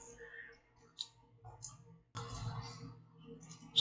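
Computer keyboard typing while a letter is composed in Microsoft Word, with light irregular key clicks, a sharper tap near the end and a faint room background.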